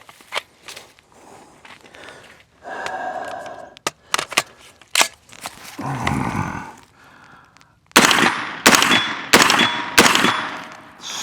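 Shots from a Daniel Defense DD PCC 916 9mm carbine: a scattered run of sharp cracks and clacks, with a bunched, louder volley of several rounds near the end and bits of handling noise between them.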